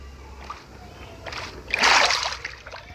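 Splashing and sloshing water from swimming in Minecraft, building to a louder burst of splashes near the middle, set against a low steady background hum.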